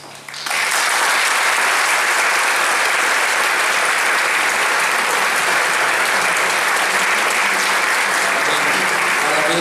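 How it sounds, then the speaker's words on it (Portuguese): An audience at a school event at Colégio Bagozzi breaks into sustained, dense applause that starts abruptly and holds steady at full strength for about ten seconds, with faint voices mixed in. "Eu gostaria que vocês aplaudissem toda a direção do Colégio Bagose"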